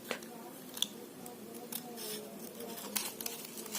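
Scissors snip through paper while petals are cut for a handmade paper flower, giving a few sharp, close clicks and crisp cuts among quiet rustling.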